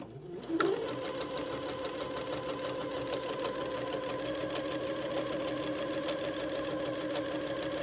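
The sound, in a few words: sewing machine hemming fabric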